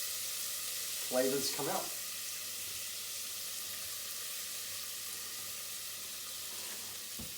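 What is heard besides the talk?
spices sizzling and being stirred in a pan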